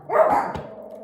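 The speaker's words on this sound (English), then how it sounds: "Sorry, it was a dog." A dog gives a single bark indoors, a short moderately loud yelp followed by a fading tail, with no talk.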